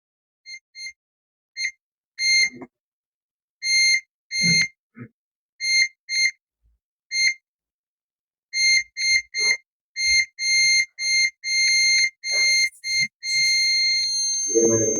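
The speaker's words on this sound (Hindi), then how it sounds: "देखो दोनों तरफ से बीप, इधर भी बीप है और इधर भी।" Continuity tester on a shorted OPPO A57 phone circuit board, giving repeated short beeps in bursts, then a longer sustained tone near the end, with brief faint talk in between.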